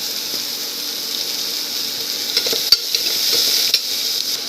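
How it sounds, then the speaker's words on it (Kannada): Chopped onion and crushed garlic frying in a pan, a steady sizzle with a few faint stirring clicks, no talking. "ಈಗ ಸ್ವಲ್ಪ ಹುರಿತಾ ಇದೆ ಈರುಳ್ಳಿ ಅದೆಲ್ಲ"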